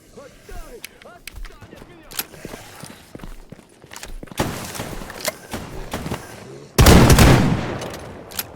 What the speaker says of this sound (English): an insanely powerful shotgun. Like, absolutely insanely powerful. Which, hopefully, I'm about to demonstrate